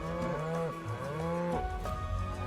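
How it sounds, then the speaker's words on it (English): A cow mooing on a farm in Final Fantasy VII Rebirth, a few drawn-out, tonal moos in quick succession, clear and close with nothing else over them. "Oh, the cow mooing was part of it."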